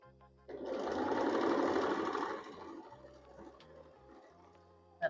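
A sewing machine stitches seams on a pumpkin quilt block in one quick burst of about two seconds, followed by fainter whirring and handling sounds and a sharp tap at the end.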